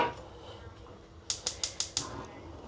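A grill's igniter clicks five times in quick, evenly spaced succession, sharp and close, following a short stretch of quieter background noise.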